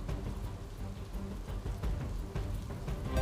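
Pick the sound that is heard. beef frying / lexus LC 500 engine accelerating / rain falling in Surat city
rain falling in Surat city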